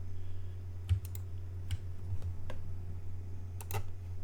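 Computer keyboard keys click one at a time, sparse and close, over a steady low electrical hum while playing Eve Online, with a few sharper taps spaced irregularly.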